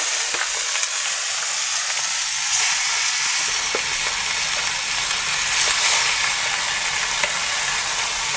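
Beef sizzles loudly in leftover oil in a pan on lowered heat, a dense steady frying hiss with occasional stirring scrapes and clicks, close and continuous without speech.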